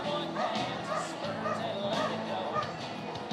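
A dog gives a few short barks and yips amid a busy crowd at an outdoor riverfront regatta show, with people talking throughout.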